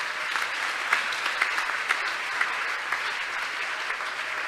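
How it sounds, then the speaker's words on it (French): A conference audience claps loudly and steadily with a few brighter peaks, cheering at an entrepreneurship talk show, with no speech over it. "Est-ce qu'on peut acclamer fort?"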